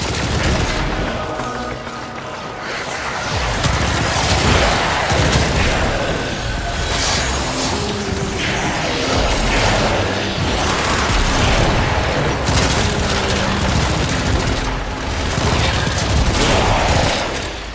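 Sustained enemy gunfire in the Warframe video game fills the scene: dense, continuous volleys of shots and booms with mechanical clatter, loud and steady throughout without letting up.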